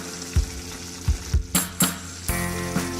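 Vietnamese braised fish (cá kho) cooks in its sauce with a steady sizzle and bubbling, broken by several sharp knocks and clatters of a utensil against the pan, close by.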